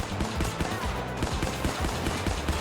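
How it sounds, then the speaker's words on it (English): Rapid, dense gunfire from the Hemlock rifle in the mobile game Apex Legends Mobile, with shots following one another in quick succession at steady loudness and no talking. "I'm going to show you now the single fire on the Hemlock."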